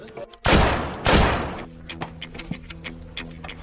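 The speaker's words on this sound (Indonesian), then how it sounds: "Ibu bos, di sana ada baku tembak." Two heavy, close bursts of gunfire from a gunfight crash out less than a second apart, each roaring briefly before fading into faint scattered ticks and low background hum.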